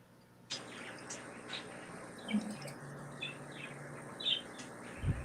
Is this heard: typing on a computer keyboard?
no